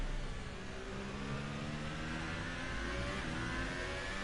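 A Formula 1 car in F1 2018 at Abu Dhabi, entering the pits under a safety car, with a steady, high-pitched engine whine holding constant and loud, no voices.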